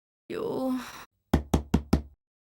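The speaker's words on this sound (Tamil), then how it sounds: "காலையில கதவை தட்டி உயிரை வாங்குறது?" A sigh or groan, then four sharp, evenly spaced knocks on a door, close and clear in a quiet room.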